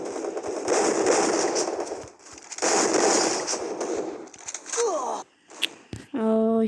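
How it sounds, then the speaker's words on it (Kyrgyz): Rapid bursts of gunfire in the mobile battle game Free Fire crackle in dense volleys broken by short gaps, with sharp single shots and chiming game effects toward the end; a player talks over parts of it. "Ой, артта да атып атат."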